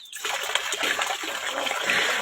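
Water poured from a mug during a bath, a steady splashing gush that runs the whole time, close and fairly loud, with no talking over it.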